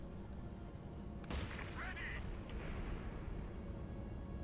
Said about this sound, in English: Here comes the Brumbar opening fire. Oh my god. Great shot by those mortar carriages.